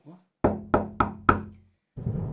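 Four firm knocks on a door land in an even rhythm, close and distinct, followed after a pause by a short burst of speech.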